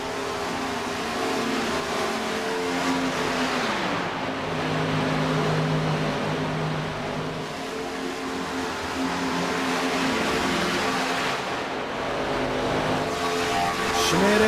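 NASCAR Cup Series race cars at Watkins Glen at night, engines droning loudly with rising and falling revs as cars pass and shift, a continuous close roar of several cars in traffic.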